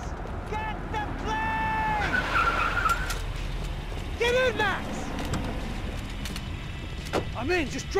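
A car drives and skids in the video game Max Payne 3, its tires squealing in repeated bursts over a steady engine roar, with voices talking over the action.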